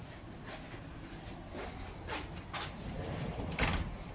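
A sliding door in a hotel room is pulled shut, with a few scraping slides and soft knocks that end in a firmer clunk, close and moderately loud against steady room noise.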